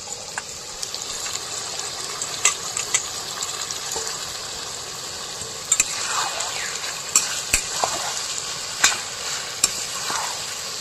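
Raw onion sizzling in a pan with duck meat, a steady hiss of frying broken by repeated sharp scraping and stirring clatters, close and fairly loud, no voices.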